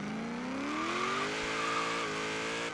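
A car in Forza Horizon 3 drifts through a long slide with a sustained engine note rising in pitch and tire squeal over it, loud and continuous throughout.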